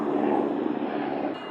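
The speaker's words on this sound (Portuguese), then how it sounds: "Deixa eu passar o helicóptero." A helicopter passes overhead, a steady loud broadband rotor and engine roar that holds for the whole stretch with no speech over it.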